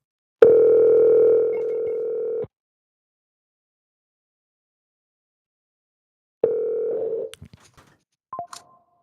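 A telephone dial tone holds steady for about two seconds, then after a pause a second tone gives way to a few short clicks and beeps as a call goes through, with no talking.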